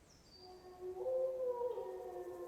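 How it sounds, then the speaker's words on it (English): Wolves howling inside a PlayStation 5 game, a couple of long rising-and-falling wails layered together, moderately loud over a low background ambience. "Alright, I need these wolves to fuck off."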